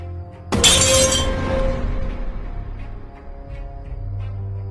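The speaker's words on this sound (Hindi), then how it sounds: "देखता है कि खिड़की का कांच टूटा हुआ है और एक लोटा नीचे गिरा पड़ा है" Kitchen window glass shatters in one sharp loud crash, with falling shards and a metal water pot clattering down, then a low ringing decay for several seconds.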